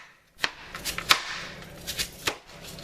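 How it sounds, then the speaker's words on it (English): A knife chops a huge onion on a cutting board for turkey sausage gumbo, about ten crisp, close taps at an uneven, unhurried pace. "I know there's more faster ways to chop an onion"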